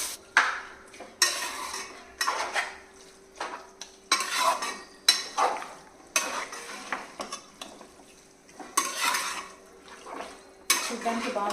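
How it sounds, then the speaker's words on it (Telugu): One kilogram of minced keema cooks in a pan with repeated scraping and stirring strokes, rhythmic clattering bursts about every second over a faint sizzle, close by with no talk. "1 kg కీమా వేడి చేస్తున్నానండి."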